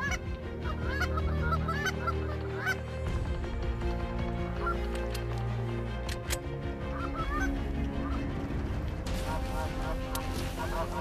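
Geese honk repeatedly during a waterfowl hunt, a chorus of overlapping calls near and far over constant outdoor noise, with people talking at points.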